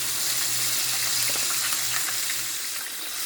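Chicken thighs frying in a pan, giving a steady, hissing sizzle with fine crackle, close and continuous with no talk.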